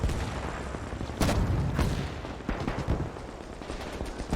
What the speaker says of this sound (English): Grab one of these guns and see how far we can fire.